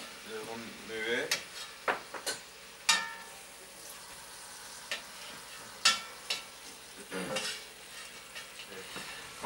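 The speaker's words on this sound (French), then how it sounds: "On va ajouter le lard, les lardons. On va le remuer." Bacon lardons frying in a pan while being stirred, with a steady low sizzle beneath repeated sharp scraping and clinking strokes of the utensil against the pan, close and moderately loud.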